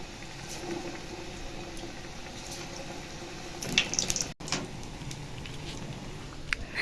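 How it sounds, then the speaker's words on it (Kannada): Ridge gourd slices coated in batter sizzle and bubble steadily in hot oil, a soft continuous fizzing with a brief louder crackle partway through. "ಇವಾಗ ಹೀರೆಕಾಯಿ ಹಿಟ್ಟಿಗೆ ಹಚ್ಬಿಟ್ಟು ಎಣ್ಣೆಗೆ ಬಿಡ್ತಾ ಇರೋದೆ"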